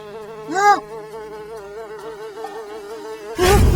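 A steady insect buzz drones throughout with a rising whine near the start, ending in a louder burst of noise.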